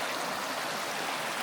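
Creek water streaming steadily along a hiking trail, a continuous broadband rush with no voices, close and even throughout.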